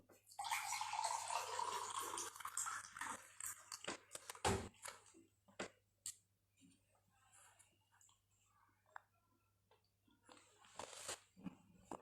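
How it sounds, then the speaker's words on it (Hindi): A person pausing mid-talk to drink water close up, with a rush of pouring or sloshing water followed by a few soft gulps and small mouth noises, then quieter scattered clicks. "दोस्तों, थोड़ा पानी पी लेते हैं, प्यास लग गई बोलते बोलते।"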